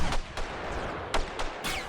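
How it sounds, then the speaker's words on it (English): Cluster bombs and small arms fire in a war video game: a dense, rumbling barrage broken by several sharp, loud bursts in quick succession, no talking. "the cluster bombs dropping in, combined with all the small arms fire, is just overloading the audio system"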